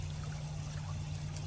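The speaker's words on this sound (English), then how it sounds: "See that the pump is very powerful. It's throwing a lot of water out." WYBOT E1-A robotic pool vacuum in an inground pool, its powerful pump throwing out water in a steady, close rushing pour, with a constant low hum beneath.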